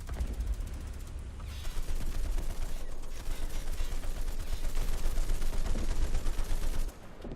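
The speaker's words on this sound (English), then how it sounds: "Ryan, why are you peppering him with machine gun fires?" Machine guns in the War Thunder video game fire in rapid, sustained bursts that rattle on for several seconds, loud and close, with brief pauses between strings of shots.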